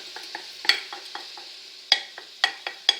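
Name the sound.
mushrooms and julienned vegetables sizzling in oil in a pan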